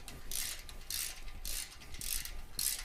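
A ratchet wrench tightens the bolts of a Vance & Hines slip-on motorcycle exhaust, five rhythmic rasping clicking strokes, close and steady.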